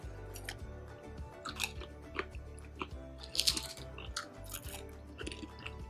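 Pringles chips are crunched and chewed up close during a mukbang, with a steady run of crisp bites and wet munching that carries on without pause.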